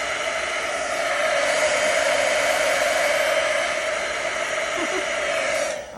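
Heat tool blowing steadily and loudly for about six seconds while drying watercolored die-cut pieces on both sides, a constant whooshing hum with no talk over it.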